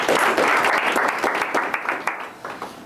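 An audience claps warmly to welcome a lecturer before a talk, a dense burst of applause that starts full and gradually thins out over a few seconds.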